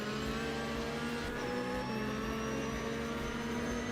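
A race car engine drones steadily at high revs in Automobilista 2 during an IMSA race, a constant loud whine with tonal harmonics and a slight pitch shift midway, no talking over it.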